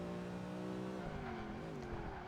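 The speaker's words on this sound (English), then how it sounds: "As soon as you brake too late and turn, this car just goes into a slide." A race car slides through a corner in Project Gotham Racing 2, its engine droning steadily with shifting pitch as the tires scrub, loud and continuous with no talk.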